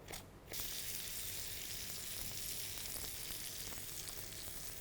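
A paneer naan sandwich sizzling in butter on a hot tawa, a steady loud frying hiss that starts abruptly after a brief moment and continues unbroken, close up, with no voices.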